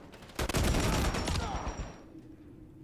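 Gunfire from a gun in Modern Warfare III: a loud burst of rapid shots lasting about a second and a half, then fading into a ringing tail, with no talk over it.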